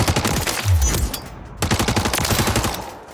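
Rapid automatic fire from a rifle fitted with an Ascent Lord stock in Warzone, loud and close, two sustained bursts split by a short pause, each a dense rattling stream of shots.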